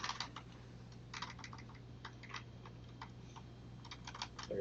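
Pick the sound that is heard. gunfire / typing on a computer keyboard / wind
typing on a computer keyboard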